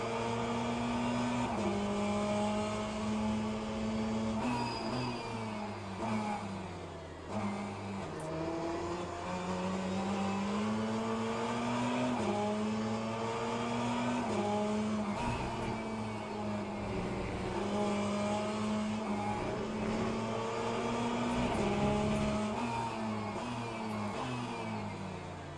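Race cars howling around a track in Le Mans Ultimate, engine notes rising and falling through gear changes with a Porsche closing from behind, loud and continuous with layered whines and revs throughout.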